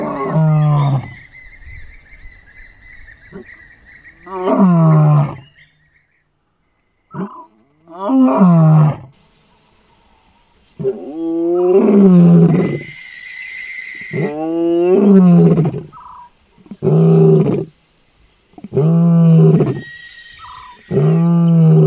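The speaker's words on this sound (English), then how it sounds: "we heard some lions roaring maybe 3 or 4 kilometers away" Lions roaring in the distance at Nxai Pan, Botswana, a series of deep, drawn-out roars with grunting tails that rise and fall in repeated bouts across the night, with quiet gaps between them and no talk.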